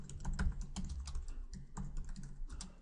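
Rapid, uneven clatter of fingers typing on a computer keyboard, close and clear, with short pauses between bursts and no talking.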